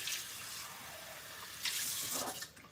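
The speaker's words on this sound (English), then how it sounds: "I'm going to run this back through the water" Water runs steadily from a tap over produce being rinsed, a soft continuous hiss that swells briefly near the end before easing off.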